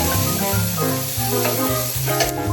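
Cooked chickpeas and golden brown fried potatoes tossed into hot oil with cumin seeds, giving a steady close sizzle and stirring beneath continuous musical tones.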